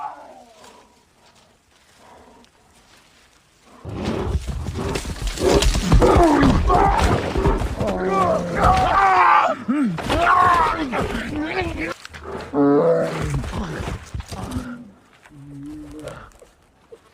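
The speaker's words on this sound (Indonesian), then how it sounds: "Hugh diserang oleh beruang grizzly dan nyaris mati." Grizzly bear roaring and groaning during a violent attack in the 2015 film The Revenant, loud and close with thrashing bursts after a quiet opening, growls rising and falling over several seconds.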